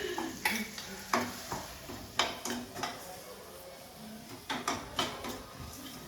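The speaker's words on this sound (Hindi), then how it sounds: "और सूजी अभी भुनने लग रही है" Semolina roasting in ghee for halwa, stirred with a spoon in a pan: soft scraping stir strokes recur every second or so over a faint steady sizzle, close by with no talking.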